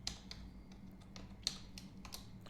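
A computer keyboard typing a Google search: sparse, quiet keystroke taps spaced irregularly over a low hum, with one slightly sharper click midway and no talking.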